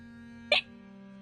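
A single sharp human hiccup over a steady electronic hum, followed by the start of another brief burst at the end, close and clear with no speech.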